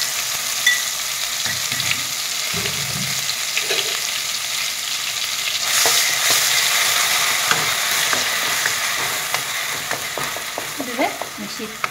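Ginger, garlic and green chili paste frying in oil in a wok, a loud continuous sizzle with scraping and clinking from stirring that grows busier toward the end, no voices.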